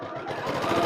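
A domestic sewing machine runs a quick back tack while machine-quilting a Kawandi-style improv coverlet, giving a steady close whirring hum with no talk.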